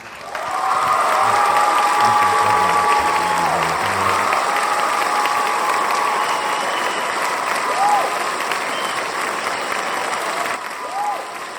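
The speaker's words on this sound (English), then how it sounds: "So big standing round of applause for John Van Auken, one of my heroes." Loud, sustained standing ovation from a large lecture audience fills the room, steady clapping with a few whoops and cheers rising above it, lasting throughout.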